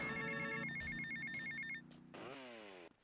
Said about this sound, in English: So yeah, I guess we'll just take this phone call